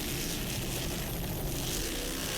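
Helicopter flying over the 1997 Key West offshore powerboat race, a steady loud rotor and engine drone sustained throughout, alone without talk.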